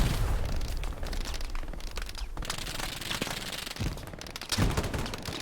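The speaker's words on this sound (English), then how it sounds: "having a bazooka be shot behind you, that is a very quiet thing" Loud gunfire and explosions fill a chaotic Hell Let Loose battle, with a bazooka fired from close behind the player amid continuous bursts, booms and crackling shots.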